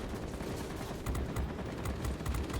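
Aircraft guns fire in bursts of rapid, crackling shots during an air battle in World of Warplanes, set against a constant engine drone and heard at moderate distance.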